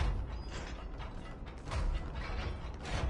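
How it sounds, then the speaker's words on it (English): A level 6 door mechanism in the Control video game grinds and creaks, with repeated ratchet-like clunks and heavy low thuds, close and prominent with no speech over it. "That is a level 6 door."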